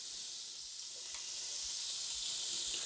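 Pots of shrimp and pasta cooking on a stove while the pasta is stirred, giving a steady, even sizzle and bubbling hiss with a few faint soft knocks beneath, no voices.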